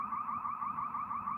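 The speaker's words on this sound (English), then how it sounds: "this alarm keeps going off here at the Tractor Supply" An alarm sounds at a Tractor Supply store: a steady, warbling electronic tone that pulses evenly and continuously, heard from a moderate distance with no voices over it.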